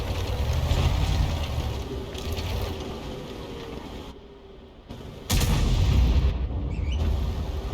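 Heavy tank cannon fire from an AMX-13F3 in a video game, a deep booming blast around the five-second mark following a rumbling, battle-noise stretch, loud and close with no talk.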